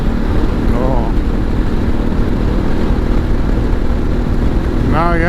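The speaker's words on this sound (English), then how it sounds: "Now you have the buffering gone, but you have a little bit more wind noise around the ears." Steady roaring wind noise rushing past a helmet while riding a Ducati Multistrada motorcycle at speed with a raised Touratech Windscreen L, loud and continuous over engine drone, with brief rising tonal whines near the start and end.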